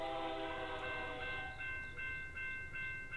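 A passing freight or passenger train sounds a sustained multi-tone horn trackside, the chord steady and loud before breaking into shorter repeated blasts over a low rumble of rolling cars.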